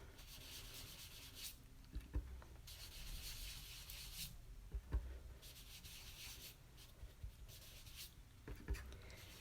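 A black sponge dabbing and rubbing Memento ink onto paper, making repeated soft scrubbing strokes in bursts with light taps between them, close and quiet.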